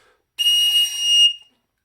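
A tin whistle plays a high G sharp in its third register. It is a single bright, piercing tone held for about a second, starting sharply and tapering off, with silence on either side.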